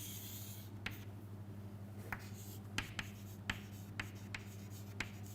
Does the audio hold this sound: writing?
yes